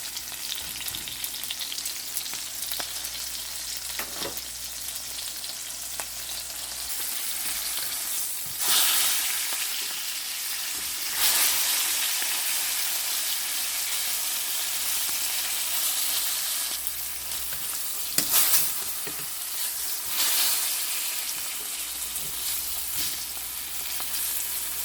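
Dried fish frying in a pan in a small home kitchen: a continuous bright sizzle and crackle, with a few louder hissing bursts as the pieces are stirred or flipped.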